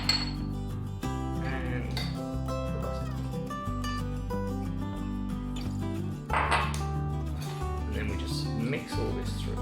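Spices, dried mango, chilli and coriander being mixed in a bowl for potato masala, with light clinks and scraping of a utensil against the dish under steady background music.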